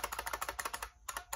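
Fast, clicky typing on a heavy IBM Model M keyboard from around 1990, with crisp, rapid keystrokes in a steady burst, a brief pause, then a few more presses close by.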